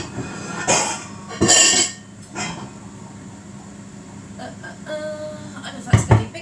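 Dishes and pans clatter and clink in short loud bursts as someone rummages through a kitchen cupboard for a baking dish for a Lancashire hotpot, with quieter shuffling between the bursts.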